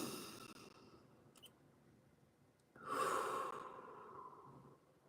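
A single deep breath is drawn in, then let out as a long, close, audible exhale, breathy and calm against a quiet room.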